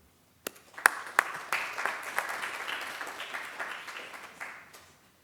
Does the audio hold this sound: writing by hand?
no